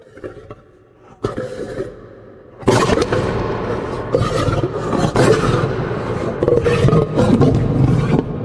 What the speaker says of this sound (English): The lion's roars cut through the silence of the night, shaking the floor of the den.